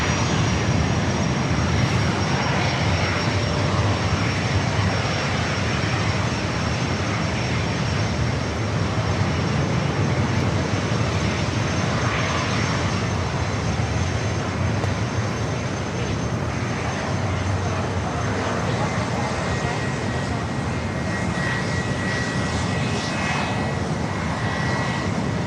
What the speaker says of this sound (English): Got a little private owner, Challenger 350. Maybe line it up on 27.